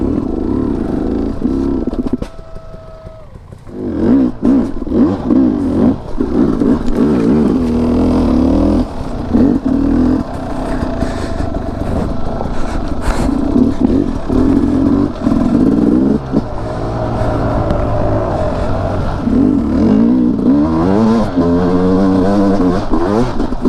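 Sherco 300 SE Factory Edition two-stroke dirt bike ridden off-road, loud engine revving up and down in bursts with clatter, including a brief near-stall dip early on.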